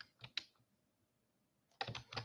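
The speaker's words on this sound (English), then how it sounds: "Oh, it's typing." Bursts of keyboard typing, a quick cluster of clacks, then a pause and another dense flurry of keystrokes, fairly close and moderately loud with no talk.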